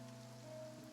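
Steady rainfall in the video game Genshin Impact, in the region of Fontaine outside the Opera House, a soft continuous hiss with a faint background tone, quiet and uninterrupted by voices.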